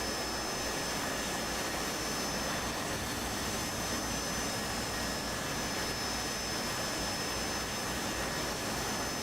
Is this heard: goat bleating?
no